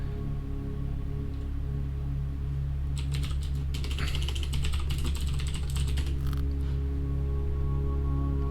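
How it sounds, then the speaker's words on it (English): Fast keyboard typing in the hacking video game NITE Team 4: a dense run of clicky keystrokes lasting about three seconds, set over a constant low electrical hum with quiet stretches before and after. "I got an achievement for that little bit of typing there."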